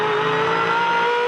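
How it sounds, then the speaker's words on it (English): Supercar race car engine at the 2011 International Supercars Perth Challenge, loud and close, holding a steady high-pitched drone with slight throttle modulation throughout, no voices. "just take real note of the engine and the throttle modulation"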